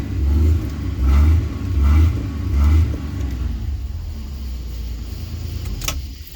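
1993 Ford Explorer 4x4 engine running close by, pulsing in a slow surging rhythm of four low swells before settling to a steadier idle, with a brief clank near the end.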